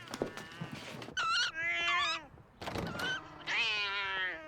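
A cat meows loudly several times in a short sequence, drawn-out tonal cries alternating with brief scuffling, heard in a scene from the TV series Charmed.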